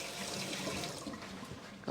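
Hands are washed under a running kitchen tap, making a steady, soft hiss of flowing water at moderate distance, ending with a small clunk.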